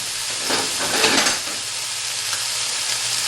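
Corn tortillas toast in a hot pan for chicken tacos, giving off a steady, close sizzling hiss with brief stirring scrapes in the first second and no talk.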